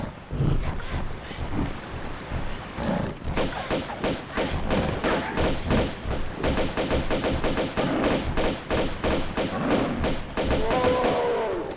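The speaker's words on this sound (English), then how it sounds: "Someone was shooting. I could clearly hear a weapon." Gunfire rings out in Tomb Raider 2 Remastered, a dense run of rapid, punchy shots and thuds repeating for several seconds, loud and close, with brief gaps between bursts.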